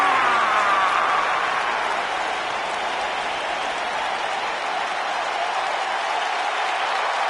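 Steady, dense applause from a large arena crowd in a WWE wrestling video game, a continuous wash of clapping at even volume throughout with no voices standing out.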